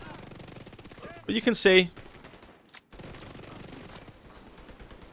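A rapid burst of automatic gunfire from a weapon in The Division 2 rattles out for about half a second, with someone talking over the game sounds before and after.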